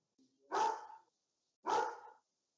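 A dog barks twice, each a loud, close, fairly long woof about a second apart, with near silence between and no talking.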